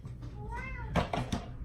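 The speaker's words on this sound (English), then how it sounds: "There's a cat meowing in the background." A cat gives a single soft meow in the background, faint and rising then falling, followed by a few louder knocks and thumps nearby.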